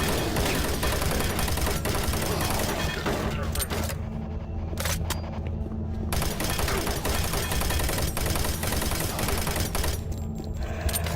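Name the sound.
gunfire from a gun in the video game Doom 3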